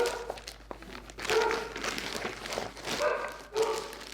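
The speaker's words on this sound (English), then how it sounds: "It's my dog Max, sorry about that." A pet dog named Max barking indoors, a few sharp, separate barks with rustling and shuffling sounds between them.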